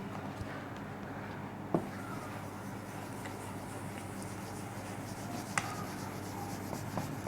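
Writing by hand on paper or a board during an engineering lecture, continuous soft scratching strokes close by with a couple of sharp taps, and faint quiet talk in the background.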